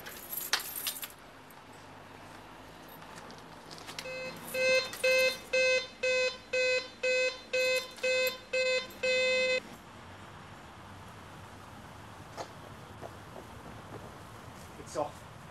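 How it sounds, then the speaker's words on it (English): A supermarket burglar alarm sounds as a run of about nine sharp, evenly spaced electronic beeps, then falls silent once switched off, leaving faint room noise and a few small clicks. "The other went to the supermarket to turn off the alarm."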